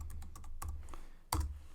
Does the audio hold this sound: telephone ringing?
no